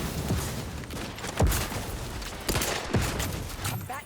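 Sci-fi gunfire from The Outer Worlds 2 video game, a few sharp shots cracking over a dense, steady wash of combat noise, with no voices.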